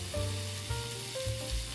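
Steady sizzling of mozzarella frying in a hot pan, a continuous crackling hiss with low rumbling, close and moderately loud.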